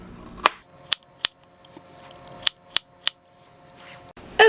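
Knife chopping food on a cutting board for oatmeal topping: a handful of sharp, close, irregular clicks and taps spread across a few seconds, with no talk.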